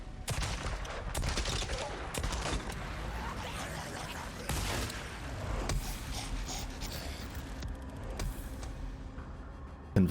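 Rapid bursts of automatic turret fire in the Days Gone video game, dense crackling volleys repeating across the whole stretch with brief pauses between them and no voices over it.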